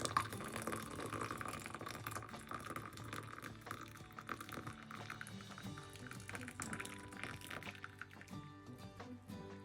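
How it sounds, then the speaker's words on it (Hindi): Freshly made tea pours into a cup, a soft continuous liquid trickle and splash at close range with light kitchen clatter, no talking. "चाय डालते हैं"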